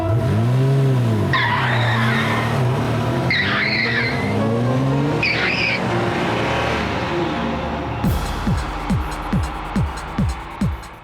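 A car revs hard and speeds away with loud squealing, skidding tires in a tense getaway, engine roar sweeping up and down, followed by a series of sharp rhythmic clatters near the end; close and loud with no talk.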